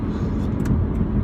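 A truck drives past nearby, giving a steady broadband road rumble for the whole moment, with no talk.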